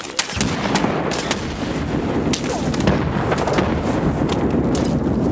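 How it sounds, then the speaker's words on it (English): Grenades and gunfire go off during a video game firefight: repeated sharp blasts and cracks layered over a constant din, with faint voices in the background. "Throwing grenades over there?"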